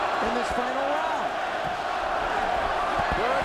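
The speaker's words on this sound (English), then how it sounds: "Listen to the crowd here at Madison Square Garden." Boxing crowd roaring at Madison Square Garden during the final round of a heavyweight fight, a dense continuous arena din with shouts and whoops rising over it, loud and steady throughout.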